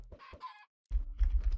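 Chickens in Minecraft cluck in short, clipped bursts, a pair of quick calls followed by a brief pause and then a denser run of clucks, close and fairly quiet.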